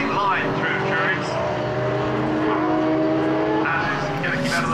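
Monoposto single-seater race cars scream around Brands Hatch in 2012, mixed with slower Formula Ford traffic, their engines droning and shifting pitch as they pass close by, with a commentator talking over the loud engine noise.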